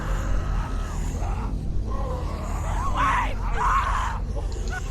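In The Walking Dead video game, a woman screams in distress in several strained, wavering bursts over a constant low rumble, with no other voices.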